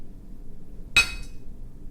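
A single sharp hammer blow rings out against the concrete and steel biological shield of a Soviet nuclear reactor compartment, a brief metallic clank over a low, steady background rumble.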